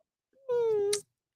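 A pet cat gives a single clear, drawn-out meow, close and loud, that rises and then trails off in a short breathy ending.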